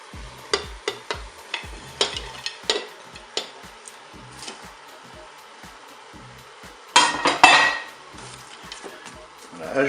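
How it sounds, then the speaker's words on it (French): Mushrooms and green beans are tipped into a Cookeo pot over browning chicken thighs: a run of clinks, scrapes and stirring knocks, then a louder burst of frying sizzle near the end. "Je vais ajouter des champignons. Je vais ajouter les haricots verts."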